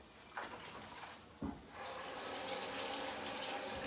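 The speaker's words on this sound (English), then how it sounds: "So I'm going to wash my hands," Hands being washed under a running kitchen tap, with a steady hiss of flowing water after a couple of brief clunks of the faucet handle.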